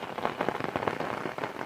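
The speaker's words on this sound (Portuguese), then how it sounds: "tá chovendo bem" Rain falling steadily on a coffee plantation, a dense even patter on leaves and ground, fairly loud and close, continuous with no talking.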